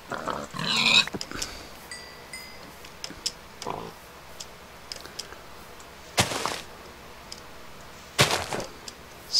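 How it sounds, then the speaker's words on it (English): A pig in Minecraft gives a few brief oinks and grunts, scattered between sharp hits and clicks from the game, with quiet gaps between the sounds. "I'll kill this pig for food"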